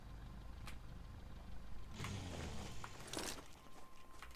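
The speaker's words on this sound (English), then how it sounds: "I'm going to park my vehicle down this way." A vehicle driven and parked in the survival game The Front: a quiet engine hum with mechanical clunks and shifting, the motor swelling briefly around the middle, then settling, faint and without talk.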